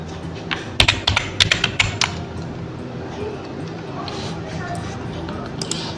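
A username is typed on a computer keyboard in a quick run of clicky keystrokes, then sparse taps, with someone speaking over it.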